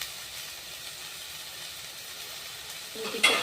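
Finely chopped hybrid tomatoes sizzling in a pan with salt for a tomato curry, a soft steady hiss that swells louder near the end as something is added.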